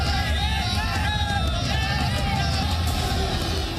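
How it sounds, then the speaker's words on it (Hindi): A large crowd gathers in the streets of Ahmedabad to welcome Baba Bageshwar, a dense and continuous hubbub of many voices with excited calls rising over a low rumble. "लोगों की भीड़ बेकाबू हो रही है।"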